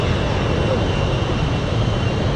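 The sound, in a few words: aircraft engine in the video game Metalstorm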